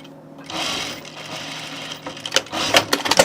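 Sewing machine stitching a shirt seam, a steady mechanical whir that breaks into quicker rattling bursts near the end, close and without talk.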